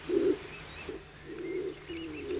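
A Bolle's pigeon, the laurel pigeon of La Gomera's Garajonay forest, cooing in low repeated hoots, moderately close, with faint higher chirps of other birds in the background.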